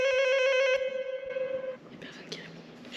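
A door intercom at an apartment building gives a steady electronic buzz-tone with a bright harmonic ring, lasting about a second and a half, then stops. Quiet street noise and a few murmured words follow.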